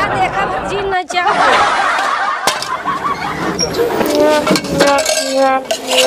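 Pots, pans and utensils clink and clatter as dishes are washed in a rural Indian home, the metallic knocks irregular and close, mixed with lively talk and laughter.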